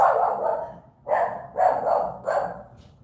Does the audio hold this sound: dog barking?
yes